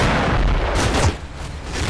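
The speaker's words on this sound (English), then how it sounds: "finally, my mortars do something useful in the battle" Mortar rounds in Combat Mission Final Blitzkrieg landing as deep, rumbling booms that merge into a loud, sustained blast, then ease slightly, with no voices.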